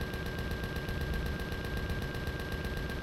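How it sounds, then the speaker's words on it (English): Rapid automatic gunfire in the video game Empyrion, a dense, steady stream of fast repeated shots filling the whole stretch at even loudness, with no talk over it. "Something shooting at me."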